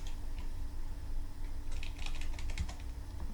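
Keys on a computer keyboard are typed in a quick burst of clicks, entering a new file name, close and moderately loud over a steady background hum.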